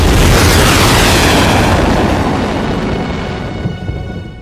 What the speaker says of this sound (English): these aren't Hollywood pyrotechnics, they're real bombs